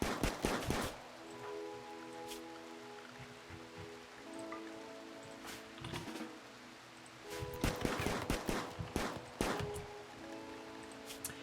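Auto pistol gunfire from the RimWorld video game comes as quick clustered bursts of sharp shots at the start and again later, with scattered single shots between them over a faint tonal background hum.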